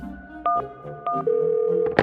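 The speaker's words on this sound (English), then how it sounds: "Tina smiled, then dialed 911 on her cell phone." Cell phone keypad tones dialing 911, three short clipped beeps followed by a longer sustained tone and a final click, close and clear with no talk.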